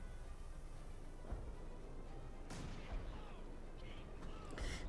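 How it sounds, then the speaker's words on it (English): Artillery strike in Company of Heroes 2, a few distant muffled booms and cracks scattered over a steady background rumble of battle, with one sharper impact midway. "He's pretty much going to try and get an artillery strike there"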